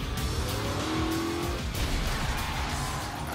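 A car driven fast, around 50 miles an hour, toward a staged stunt wreck on a film set, a steady loud engine roar with a brief tire squeal, no talking.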